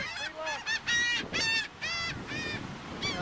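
Several geese honk in repeated bursts, loud and close, with short gaps between calls and a soft wash of background noise like distant surf.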